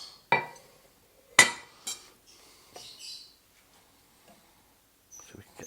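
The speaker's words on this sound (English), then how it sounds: "The most awkwardest lid to take off ever." A heavy lid comes off a casserole pot taken from the oven, where rabbit chasseur has cooked: sharp metallic clanks and clinks, two loud knocks followed by scrapes and lighter taps, close by and otherwise quiet.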